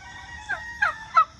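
A turkey gobbles three times in quick succession, each call short, rising and fairly close, against a quiet background with no talking.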